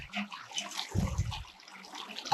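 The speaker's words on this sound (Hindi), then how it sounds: "बोतल को धो लें" Tap water splashes and gushes as a bottle is rinsed at a roadside shop on the way to Tao Butt, a steady close wash that swells into a louder burst midway.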